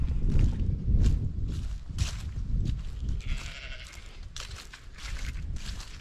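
Several lambs bleat in a farm field, their calls overlapping and repeating every second or so at close to middle distance, loud and clear with no talking.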